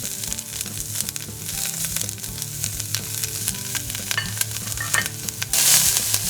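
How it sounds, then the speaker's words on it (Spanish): Ginger and garlic frying in hot oil give a steady, close sizzle with crackling bursts throughout, growing a little louder near the end, with no talking. "Ponemos aceite a calentar y empezamos por poner el jengibre y el ajo."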